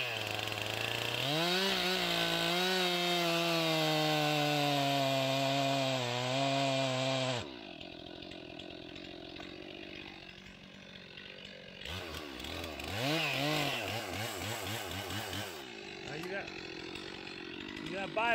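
A chainsaw cuts while felling a tree in the forest: a loud, steady engine drone for about seven seconds, then a rougher, wavering stretch as the saw bites and shifts, with the engine rising and falling toward the end.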